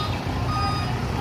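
A long flatbed truck carrying 32-foot piles gives off steady reversing beeps while maneuvering into a tight riverside delivery spot, the tone loud and continuous over a low engine rumble, with no talk.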